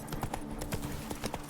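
Hooves of Roach, a horse in the video game Witcher 3, clip-clop in a quick, steady gait close up, the hoofbeats coming rapidly and continuously.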